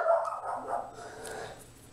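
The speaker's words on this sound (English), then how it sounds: "It was the FedEx guy that she was barking at" A dog barks at a delivery man at the door, several quick, loud, close barks run together over about two seconds with no talking.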